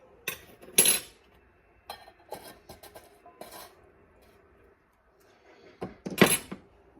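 Metal spoon clinks and scrapes against a dish as spoonfuls of ranch dressing go onto a pot roast, several sharp knocks spaced out with quiet gaps between, no talking.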